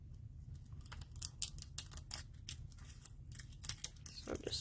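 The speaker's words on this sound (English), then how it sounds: "So just trimming that cello off" Scissors snip cellophane away from a molded isomalt butterfly-shoe decoration, a run of quick, close crisp cuts and crinkles with a low steady hum underneath.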